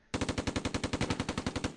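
Sustained machine gun fire from the Close Combat II war game, a rapid, evenly spaced string of about fifteen loud, close shots heard alone with no pauses.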